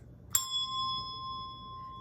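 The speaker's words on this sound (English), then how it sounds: "So that's a red bell, C, and it sounds like this." Red handbell playing the note C: a single bright strike followed by a clear, sustained ringing tone that slowly fades, heard alone.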